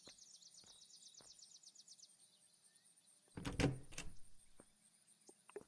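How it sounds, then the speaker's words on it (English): Shutters slamming shut over bulletproof glass windows of a gun store base in the Unturned survival game: a single loud metallic clatter with a short rattling tail, set against quiet ambience and faint bird chirps. "you close the shutters, pretty much blocks you off"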